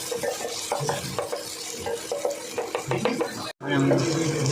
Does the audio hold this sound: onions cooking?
yes